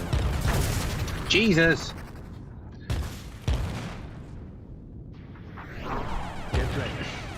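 Missiles and guns fire in the arcade shooter Project-X: Light Years: bursts of shots and booms, with whooshes, over a busy game mix, while a voice exclaims briefly.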